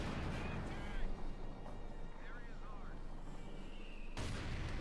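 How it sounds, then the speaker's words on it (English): A 90mm gun on an M36 Jackson tank destroyer fires on a Panzer IV in a Company of Heroes 2 match: sharp booming impacts amid constant battle noise, with a commentator talking over it. "Panzer IV shoots a bit wildly, reveals itself more or less to the Jackson, takes a hit there from the 90mm gun."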